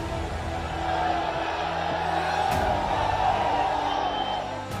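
A large crowd roars and murmurs at an open-ground political rally, a steady, dense wash of voices and cheering heard from within the gathering.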